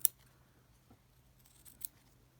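Scissors snipping around fabric for a homemade covered button: a sharp cut at the start, a faint one in the middle and another crisp snip near the end, quiet and close, in a still room.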